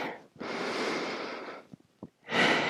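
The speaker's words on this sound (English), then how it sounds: "And breathe in" Deep, audible breaths during a seated chair exercise: a long, close inhale, a pause with small exhale puffs, then another strong inhale starting.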